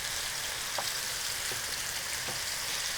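Kaleh gonjeshki meatballs fry in a pan with a steady, bright sizzle and faint pops, continuous and close.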